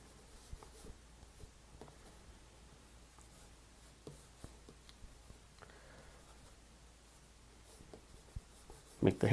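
Travel color pencil drawing on paper, soft scratchy strokes in short irregular bursts, quiet and close, with a louder tap at the very end.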